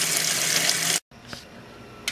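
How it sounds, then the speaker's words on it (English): Water gushes loudly from a tap into a pressure canner for canning turnips, breaks off abruptly, then resumes as a softer, steadier pour. "Put water in my pressure canner."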